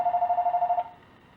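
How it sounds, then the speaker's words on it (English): A telephone rings with a fast, trilling electronic burst of rapid pulses lasting under a second, then cuts off and leaves quiet room tone. "aha, the phone"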